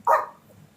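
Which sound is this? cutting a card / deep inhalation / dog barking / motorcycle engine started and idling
dog barking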